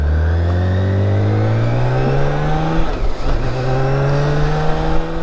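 A 2014 BMW K1600GT motorcycle engine, just repaired, revs up close by, climbing in pitch, dropping briefly around the midpoint, then rising again through a second rev, with no talking.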